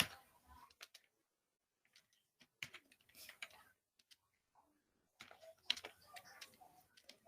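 Bursts of key clicks on a computer keyboard while typing Bangla text with Bijoy, quiet and close, arriving in short irregular clusters separated by near-silent pauses.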